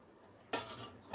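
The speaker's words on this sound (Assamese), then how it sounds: "ভালদৰে মিহলাই দিম।" A spoon stirs milk and curd together in a bowl, making a brief burst of close scraping and clinking that starts abruptly, continues for about half a second, then swells again, with no talk.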